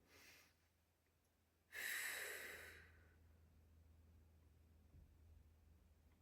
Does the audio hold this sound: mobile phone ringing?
no